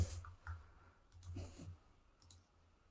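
A computer mouse clicked while browsing a GitHub page, a few faint, quiet clicks spaced apart over a low background hum, with no speech.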